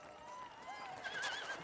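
A horse neighs in a rising, wavering whinny over a steady clip-clop of hooves, close and clear, with a faint voice beneath.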